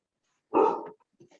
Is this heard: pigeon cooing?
no